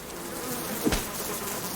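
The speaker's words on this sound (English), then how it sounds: "we get a good view of the hive and all the bees" Bees swarming around a broken hive lying on the ground in the survival video game Subsistence, a low continuous buzzing drone close by with one brief thump in the middle.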